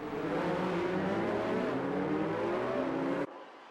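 Formula 1 race cars in the F1 2019 video game starting behind the safety car, a loud, dense engine roar held steadily before cutting off abruptly near the end.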